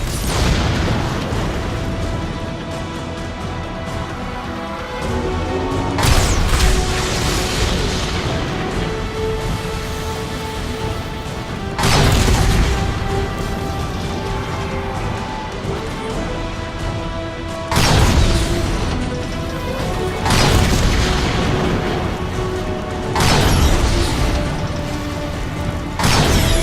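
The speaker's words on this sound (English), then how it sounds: "Optimus, enemy dropship coming your way." Inside the Transformers: Fall of Cybertron game, an enemy dropship arrives amid a mechanical rumble, with repeated heavy booming impacts at intervals over a sustained droning background.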